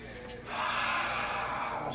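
A deep, breathy inhalation during a yoga arm-hug stretch, a single long airy breath rising after a quiet start and holding for over a second, close and soft.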